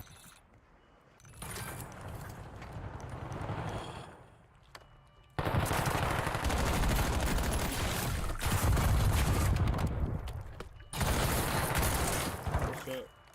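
Rapid bursts of automatic gunfire from a Call of Duty match, loud and sustained in several long volleys separated by short pauses, with a voice briefly heard early on.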